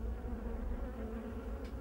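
A steady, faint insect drone of green flies buzzing continuously around a dead rat, with no other sounds over it.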